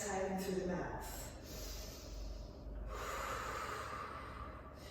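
Breathing during a Pilates exercise, with air drawn in through the nose and let out through the mouth: a short sharp sniff, then a long soft breath out, quiet and close.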